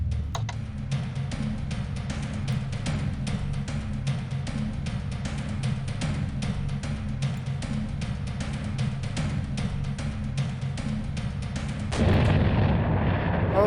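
A bomb explosion in the video game Quest for Glory 5 sounds as a long, dense rumble of rapid crackling blasts that rolls steadily, then thickens into a heavier boom toward the end.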